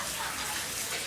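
Water runs steadily from a household tap, a close, continuous hissing gush without a break across the whole moment.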